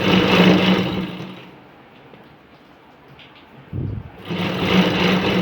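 A sewing machine stitches a strip onto a blouse neckline in quick whirring bursts, pausing in the middle and then starting again, close and clear.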